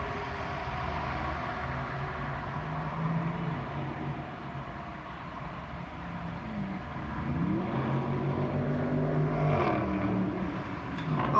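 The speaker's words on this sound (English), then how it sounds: "now here comes a Dollar General truck" A Dollar General delivery truck drives past on a road, a low rumbling engine that builds toward the end with rising and falling pitch, heard from the roadside amid steady traffic noise.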